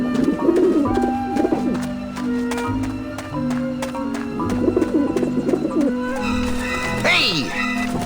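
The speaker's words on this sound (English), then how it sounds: "I don't like the looks of those pigeons." Pigeons cooing on a roof in the video game Grim Fandango, soft repeated coos layered over game music and a voice speaking, with a brief shrill call near the end.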